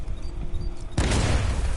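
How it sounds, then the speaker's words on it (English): In the Arkham Knight video game, an explosive charge set directly on a wall goes off as a sudden loud burst that breaks into a dense, roaring rumble of crumbling debris, cutting through a quieter background hum. "apply the explosive directly to destroy that wall"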